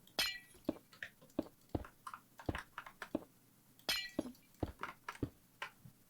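Glass blocks clink sharply as they are placed one after another in Minecraft, a quick irregular series of bright, close glassy taps with short pauses between them and no talking.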